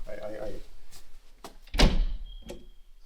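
Main entrance doors of a building swing closed with a solid thunk, preceded by softer handling noises, with voices nearby.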